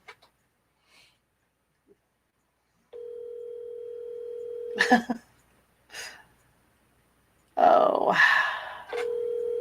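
A cell phone ringing on a call, two flat steady ring tones a few seconds apart, with brief speech between them and a voice answering.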